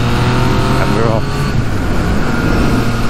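A Yamaha MT-09 motorcycle engine drones steadily while riding through a forest on a morning commute, loud and close with wind rush, a voice talking over it.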